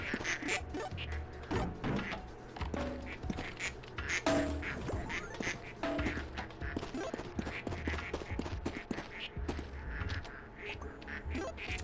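Cartoonish duck quacks churned out by a duck-making machine in the game Project P.I.T.T., repeated in quick bursts over busy game music and effects.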